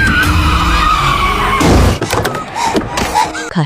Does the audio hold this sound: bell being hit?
no